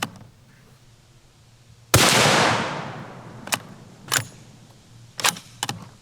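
An MK22 sniper rifle fires one loud, sharp shot that decays slowly in a long, rolling tail, followed by several fainter metallic clacks of handling.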